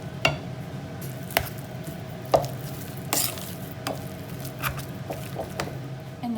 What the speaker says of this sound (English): I'm adding 2 tablespoons of butter to that and mixing it through